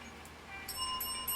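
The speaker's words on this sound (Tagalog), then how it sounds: "Bell sound." A short chiming bell sound effect rings out faintly over a low background hum during a TikTok Live stream, with a few bright repeated tones near the end.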